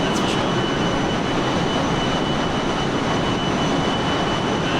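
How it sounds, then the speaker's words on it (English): Loud, continuous roar of a Fokker F28's turbojet engines without hush kit in Microsoft Flight Simulator, a dense broadband whine and rush that holds steady throughout, close and overpowering, with no speech. "These turbojets were known for being incredibly noisy. Yeah, well, I removed the hush kit. Just to get the full noise experience."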